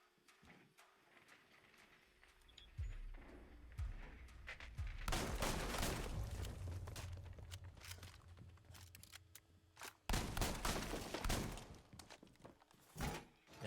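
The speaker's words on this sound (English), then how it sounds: "Now this new shotgun that Denari has, it's very intriguing. It throws me off hearing it." Shotgun blasts from a new weapon in Rainbow Six Siege during a collegiate esports match, several loud sharp bursts in irregular clusters over dense game noise, heavy in the middle and again near the end.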